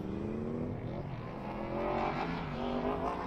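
Racing car engine from a modded racing video game, droning steadily at high revs with harmonic whine rising and falling through gear changes, loud and continuous for the whole stretch.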